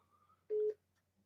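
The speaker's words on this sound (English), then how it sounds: "I'm getting a phone call." A single short electronic telephone tone sounds once, a brief steady beep against quiet background.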